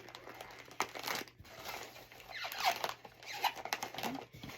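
Crinkly plastic of a custom chip bag being folded and pressed by hand, close and fairly quiet, with irregular rustling bursts and brief pauses between folds.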